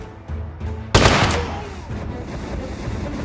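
Gunfire in the battle game TABS: a loud, sharp gunshot blast lands after a second amid a dense, noisy battle din, with lighter shots before it and a rumbling wash afterward.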